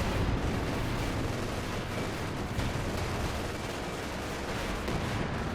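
Panther tank cannon fire and battle explosions in Company of Heroes 2 form a dense, continuous roar of booming blasts and rumbling gunfire, loud and close throughout.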